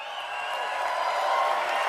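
Large crowd of around 6,000 supporters at a political rally in Oshawa, applauding and cheering in a steady, dense wash of clapping that holds for the whole stretch with no clear voices on top.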